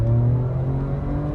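A 2025 Ford Ranger Raptor truck accelerating, its engine a steady low droning growl heard from inside the cabin, holding loud and even throughout with no talk.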